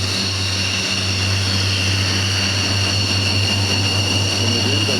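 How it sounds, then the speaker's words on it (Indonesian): Military aircraft fly over Monas in Jakarta during an air show, a steady, loud engine drone with strong low and high tonal hum that holds evenly throughout, with no talk. "Sebanyak 81 pesawat akan menampilkan aksinya pada 17 Agustus mendatang dengan demo udara"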